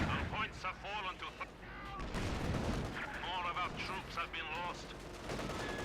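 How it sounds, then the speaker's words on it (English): Artillery and gunfire from a Company of Heroes 2 battle, a dense stream of thumping shots and rattling bursts kept low behind a commentator's fast, continuous talking. "there is a artillery piece in the back that's counter-firing"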